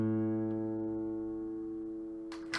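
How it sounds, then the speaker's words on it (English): A single plucked open A string on a guitar, tuned slightly flat, rings out and slowly decays, close and alone, with a short scratchy noise at the end. "this open A, a little bit flat, has a frequency of 110 hertz"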